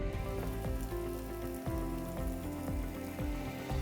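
Zucchini and fresh herb ejjeh batter frying in hot canola oil in a pan, a steady close crackle and sizzle with small popping bursts throughout.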